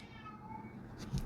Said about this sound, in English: Can you hear my cat in the background?